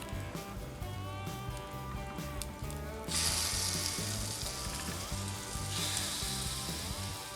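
Pepperoni chaffle batter cooks in mini waffle makers with a continuous sizzling hiss that swells louder midway. Steady music runs underneath throughout.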